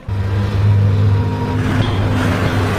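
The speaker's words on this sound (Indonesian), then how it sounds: "mobil pun membawa 33 orang pekerja masuk ke dalam tambang" A vehicle carrying 33 miners drives into a gold mine, its engine a loud, close, steady rumble with a slight rise in revs for nearly three seconds.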